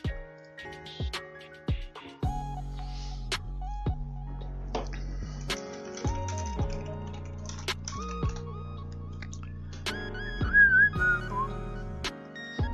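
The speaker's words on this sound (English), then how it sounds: "I probably shouldn't actually whistle into my microphone while I'm streaming" A streamer whistles a wandering melody close to the microphone during a card game, amid musical tones and scattered clicks, with no talking.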